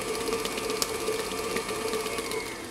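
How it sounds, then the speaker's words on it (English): An electric stand mixer runs on its slow stir setting for an orange fromage fruit tart filling, giving a steady, even motor hum with faint rhythmic mechanical ticking and no speech. "while the mixer's on stir or slow or low, I'm going to add the gelatin"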